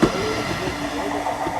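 Blackpool tram rolling in during the November illuminations, a loud, close, continuous rumble of wheels on rails with a steady metallic hum and faint squeal.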